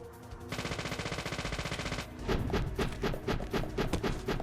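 Gunfire in the video game Deadly Premonition, a rapid rattling burst followed by a string of heavier, evenly spaced shots, loud and close.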